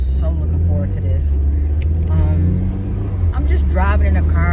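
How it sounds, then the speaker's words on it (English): Car driving along heard from inside the cabin, a constant low engine and road rumble filling the background while a person talks over it throughout. "I'm just driving in the car"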